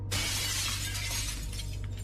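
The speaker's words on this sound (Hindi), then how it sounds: "रात के 2 बजे लिली को कांच टूटने की आवाज आती है" Glass shatters loudly at two in the night, a sudden bright crash followed by a long scattering hiss of falling shards, with no voices.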